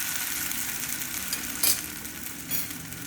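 Potato semolina sandwich frying in ghee on a pan, giving a steady, dense sizzle throughout with a brief louder crackle partway through.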